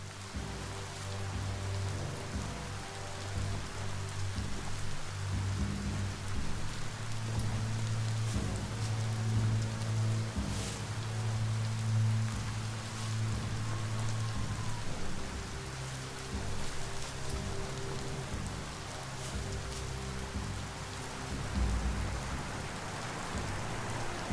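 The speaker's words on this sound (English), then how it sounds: "Might want to look for shelter from the rain." Steady rainfall in the video game Biomutant, a continuous wash of drops on surfaces with low rumbling underneath, holding evenly for the whole stretch without speech.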